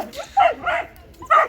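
Several dogs bark and yip excitedly up close, short high yelps coming in three quick bursts with brief pauses between them.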